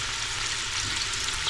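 Onions fry in a hot pan with herbes de Provence, giving a steady, close sizzle with soft crackling throughout and no voices.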